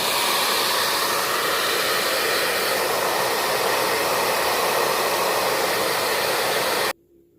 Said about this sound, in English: I dried this with my heat gun